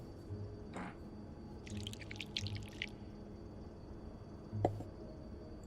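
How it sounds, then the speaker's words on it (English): Plaster being poured into a mold in a video game gives a short, faint run of wet, splashy trickling and dripping sounds, with a few isolated clicks before and after. "Just pour the cup of plaster into the mold."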